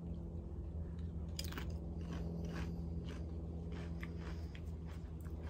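Quiet, close crunching and chewing of nacho cheese tortilla chips, a few crisp bites followed by soft mastication over a low background hum, with no talking.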